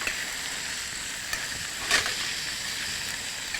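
Kathiyawadi papaya sambharo cooking in a pan with mustard seeds, cumin and turmeric gives a steady, soft frying sizzle, with one brief louder crackle partway through and no voices.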